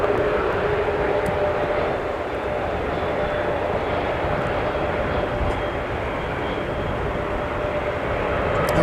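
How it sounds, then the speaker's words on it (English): A CRJ jet landing on runway 12 right at Minneapolis–St. Paul Airport during a winter storm, a loud, steady broadband jet roar that holds evenly throughout, heard from the field without clear talk. "I was going to wonder when that CRJ-9 or 700 rather was going to plant it down on runway 12 right"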